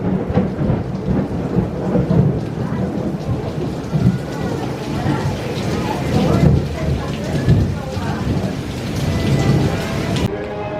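Thunder rolls repeatedly through a downpour at Epcot, heavy rain hissing steadily close by while deep booming rumbles swell and fade several times over the storm, loud and continuous.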